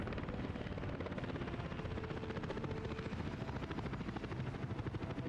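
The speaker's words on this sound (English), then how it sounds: "and chopper number 2 comes through." A passenger helicopter in Workers & Resources: Soviet Republic flies nearby with a steady, loud rotor thump and a rough, rumbling engine roar that continues throughout, with no talk.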